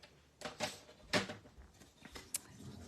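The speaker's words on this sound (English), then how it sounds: "we're going to cut right up again to the score line" Paper trimmer blade slicing cardstock up to a score line for a handmade card, a few short dry scraping swipes with light handling noises, close and fairly quiet.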